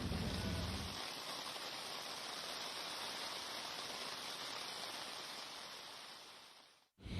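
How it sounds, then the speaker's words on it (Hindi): Heavy unseasonal rain in Delhi on the first of May makes a dense, steady hiss that continues unbroken and cuts off abruptly near the end. "1 मई का स्वागत दिल्ली और उत्तर भारत में भारी बरसात ने किया।"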